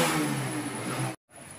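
An electric bike with a starting current problem is switched on and runs with a steady, fairly loud motor drone that cuts out briefly near the end, then resumes. No voices are heard.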